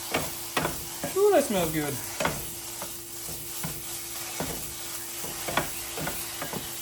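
Provolone being stirred into sizzling Philly cheesesteak meat on a hot griddle: a steady frying hiss with repeated scraping and clacking of a spatula, a person speaking briefly over it.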